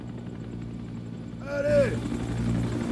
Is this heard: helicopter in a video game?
yes